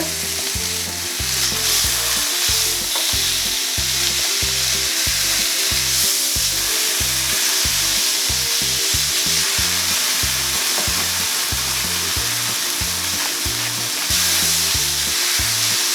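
Beef sears in a hot pan with a loud, close, continuous sizzle, while rhythmic low thumps and scraping suggest the meat being turned to seal its sides.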